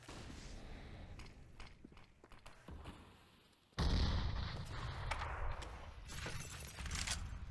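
Grenades bursting in a professional CS:GO match on the Inferno map, sharp bangs and crackling debris with a sudden loud blast partway through, followed by sustained rumbling and further pops.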